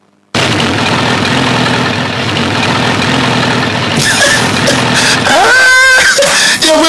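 An engine idles with a loud, steady low rumble close by, then the pitch rises briefly toward the end.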